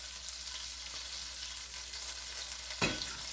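Butter and olive oil sizzling steadily in a pan, a constant crackling hiss with a brief louder flare near the end, no talking.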